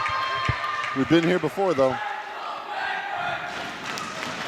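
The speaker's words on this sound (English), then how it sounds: "The Bedford cheering section up and about." The Bedford cheering section at a volleyball game, with loud shouted, rhythmic chanting bursts rising over crowd noise and then settling into a busy murmur. A voice speaks over the crowd.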